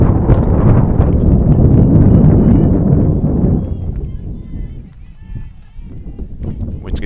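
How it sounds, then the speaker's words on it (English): Strong wind gusting over the microphone at an outdoor softball game, a loud, steady rumbling buffet that fills the first half and then eases into lighter, uneven gusts. "Winds continuing to gust here"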